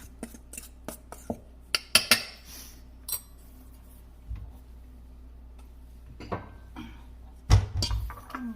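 A utensil clinks and taps against a bowl while egg-and-milk pancake-style batter is mixed, scattered sharp knocks close by, some in quick clusters and others spaced apart, over a quiet room.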